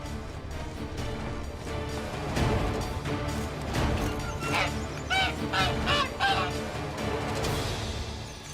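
A caged hen in The Witcher 3 honks several times in a row, with the loudest goose-like calls bunched toward the middle, over busy in-game background noise.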